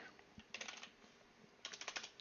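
Quick bursts of typing on a computer keyboard as a gamer tag is entered for Battlefield beta stats, two clusters of close, clicky keystrokes separated by a brief pause, with no talking.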